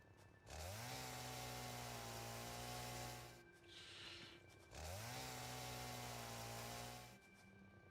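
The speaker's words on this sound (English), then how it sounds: "The area of effect with the chainsaw is freaking awesome." A chainsaw in the video game Satisfactory revving up twice, each run a loud sustained buzzing drone that holds for several seconds, with a brief dip in between.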